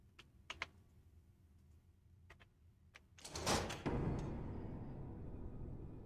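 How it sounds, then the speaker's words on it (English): A door opening in the horror game Charon's Staircase, a sudden loud mechanical clunk and scraping swell after a few faint clicks, then a sustained rumbling fade. "Apparently it opened that door."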